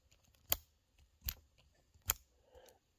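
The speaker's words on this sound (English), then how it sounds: "if you hear this click" Bit lock on a Ryobi 18V rotary tool clicking: three sharp, close plastic clicks spaced roughly evenly apart, followed by a softer rattle, with a quiet background and no voices.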